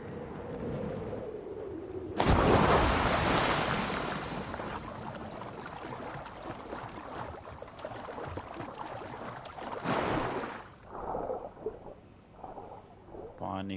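Water and waves in Assassin's Creed Valhalla: a loud splash opens a long, broad rush of churning water that fades into lighter sloshing, with a voice speaking briefly over it.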